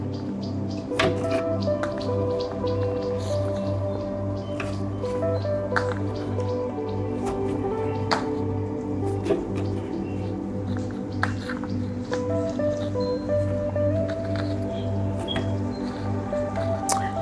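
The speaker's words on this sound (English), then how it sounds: "Just dump it all into the juicer." A juicer grinds watermelon, lemon and other fruit with a steady low motorized hum, broken by irregular taps, squishes and small drips as pieces feed through, heard alone and close for the full stretch.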